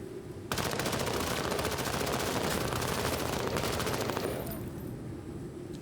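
Sustained machine-gun fire in the tactical war game Menace, a single dense burst of rapid shots lasting about four seconds, loud and close, then cutting off to quieter background.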